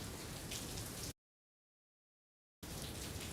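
Steady rain falls over an outdoor football practice, a dense hiss of drops that cuts out to silence partway through and then returns just as full.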